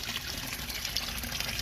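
Water from a DIY fish tank filter splashes steadily into a red tilapia breeding setup, a constant soft, close rush and trickle with no break.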